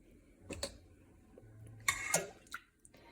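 Thick Greek yogurt is scooped into a cheesecloth strainer in a kitchen, giving a few soft, brief clinks and wet plops with light utensil taps, close and quiet, no talking.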